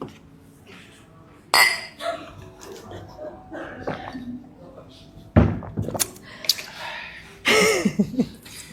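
Glasses clink together in a toast, giving a few sharp, bright chimes with clattering handling sounds around them, while people talk nearby.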